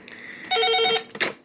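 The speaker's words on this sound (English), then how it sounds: "This phone just keeps going off the hook." A telephone bell rings once in a short, bright burst of tones, loud and close, followed by a couple of softer clicks and knocks in an indoor room.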